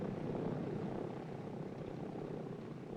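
A propeller plane on a military runway, taking off after unloading cargo or personnel at a Pathfinder landing zone, drones loud and steady with a dense engine roar throughout.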